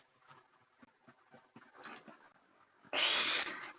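Pet dogs in a Minecraft game give soft, scattered whimpers and short barks, followed by a louder burst of sound near the end, with no talking.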